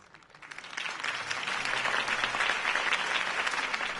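A video game crowd breaks into sustained applause that swells in the first second and keeps going steadily, dense clapping with some cheering mixed in.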